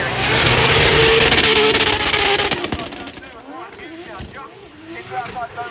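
A drift car's engine roars and revs hard on track at a drifting event, loud and close at first and then fading, under an excited commentator's voice.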